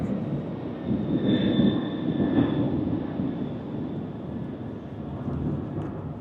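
Airplane passing overhead with a broad engine roar that swells in the first seconds, carries a faint high whine, then slowly eases while staying continuous.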